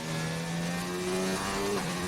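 An F1 race car engine from the F1 2019 game holds full throttle through a fast right-hander, giving a steady, loud, high-pitched droning whine that shifts slightly in pitch partway through, with no talking.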